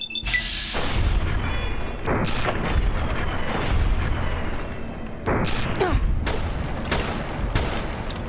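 Dense rapid gunfire and booming impacts from a Fallout: New Vegas firefight, loud and continuous with bursts of shots throughout, no talk over it.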